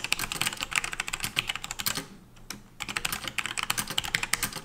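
Fast, steady typing on a Logitech G810 Orion Spectrum mechanical keyboard, dense close key clatter with a short pause midway, no voices.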